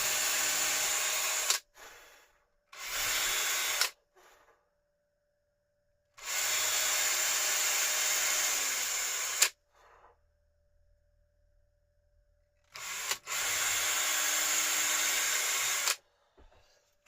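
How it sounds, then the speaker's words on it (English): A power drill whirs in four separate bursts, some short and one long, with silence between them, while parts are wired and fitted on micro monitors. "What we want to do is just to drill this"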